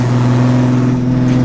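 A BMW drag car spinning its wheels off the line at a drag strip, heard as a loud, sustained steady engine roar with a droning tone held throughout.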